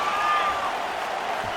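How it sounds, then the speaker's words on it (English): A capacity crowd gives a standing ovation after a round in the video game UFC 5, with a broad, steady roar of applause and cheering that holds at full level throughout. "standing ovation from this capacity crowd"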